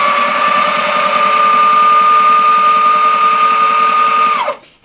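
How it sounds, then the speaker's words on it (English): A sewing machine stitches patio cushion fabric, a loud, close, steady whirring hum with rapid needle chatter running continuously for over four seconds before winding down and stopping. "So I'll go ahead and start stitching."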